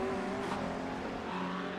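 Race cars in a sim racing endurance event at Road Atlanta roar past in a steady, dense engine drone with no break.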